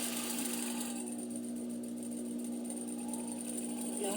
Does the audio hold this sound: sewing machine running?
yes